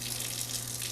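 Tap water runs steadily over boiled eggs being peeled under the stream, a soft even hiss and gurgle close by, brief and fairly quiet.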